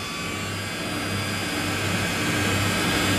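A gas torch heats the bottom of a heat pump compressor. Its steady, loud, broadband roar holds unchanged throughout.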